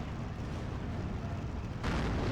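Field gun in Steel Division 2 firing, a rolling wash of artillery rumble and blast noise that swells louder near the end, with no distinct individual shots standing out.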